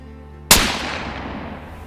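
A single sharp rifle shot rings out from a deer hunt, a hard loud crack followed by a long fading outdoor echo and rumble, with no voices.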